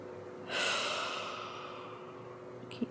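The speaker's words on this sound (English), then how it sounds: "And just breathe" A slow, deep breath during a third-trimester prenatal Pilates stretch on a mat: one long, soft breathy exhale that swells and then fades over a couple of seconds, close to the microphone, followed by a faint click.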